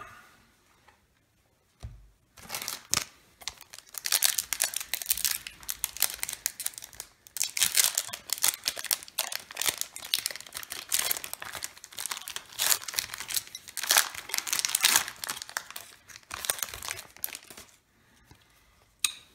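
A Force of Will TSW booster pack wrapper is crinkled and torn open up close, with a long run of loud, uneven crackling and ripping bursts after a brief quiet start, no talking.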